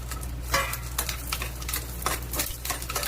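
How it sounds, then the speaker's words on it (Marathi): Green chillies dropped into hot oil in a pan while making a Marathi village-style chicken curry, giving a steady crackling sizzle with scattered spatter bursts and a low hum underneath, close and moderately loud, no talking. "आपण ज्या हिरव्या मिरच्या घेतल्या होत्या त्या घालून घेऊया"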